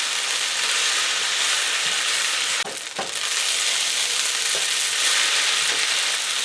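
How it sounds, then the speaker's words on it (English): Purple cabbage and drained noodles hit a hot pan and fry with a loud, constant sizzle, broken briefly by a stir and a few soft clinks, close up. "And in goes our purple cabbage and noodles."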